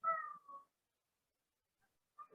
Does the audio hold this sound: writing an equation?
no